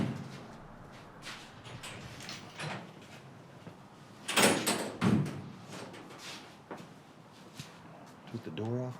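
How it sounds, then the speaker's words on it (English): A door being lifted off its hinge in an old prison, with a few wooden knocks and scrapes, one louder clatter midway and lighter bumps around it, as people talk in the background. "Took the door off the hinge."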